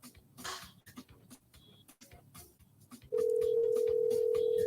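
A phone call rings out unanswered with a steady electronic ringback tone starting partway through, loud and continuous, after a stretch of scattered clicks and quiet background rustle.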